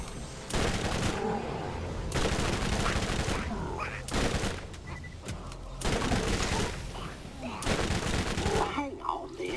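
Rapid bursts of automatic gunfire aimed at zombies in the video game Borderlands, loud and dense, coming in several sustained volleys separated by brief pauses.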